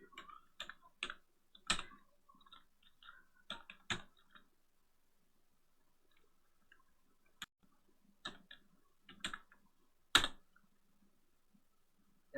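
Scattered keystrokes on a computer keyboard, typing a short browser search in a few quick bursts with pauses between, close and fairly faint in a quiet room.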